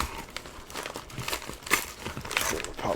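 Tape and packaging on a mail package are torn and pulled open by hand, giving a steady run of close crinkling, ripping and crunching bursts with no talk.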